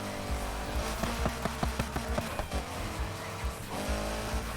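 A car engine in the racing game Need for Speed Heat revs hard while accelerating, with loud, repeated bursts that sound like gear shifts and brief tire noise over a constant roar.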